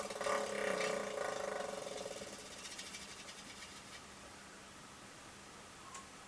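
A prize wheel is spun by hand, its pointer clicking rapidly against the pegs and then slowing to a gradual stop, fairly faint against a soft hiss.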